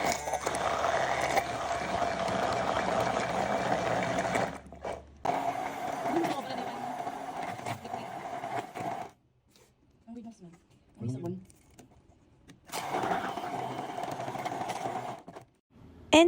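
A KitchenAid immersion blender whirs steadily while blending homemade baby food of corn and its cooking water, running in long bursts with brief pauses between them. Someone talks over parts of it.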